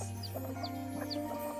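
Soft clucks and short chirps from a chicken kept near wild forest animals, a few brief calls scattered over a steady low background hum, fairly close and moderately quiet.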